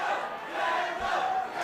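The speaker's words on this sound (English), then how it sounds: "Crowd chanting Kendall now." An MMA crowd chanting Kendall during the Jesse Taylor vs Kendall Grove fight, a loud, massed rhythmic roar of many voices filling the arena.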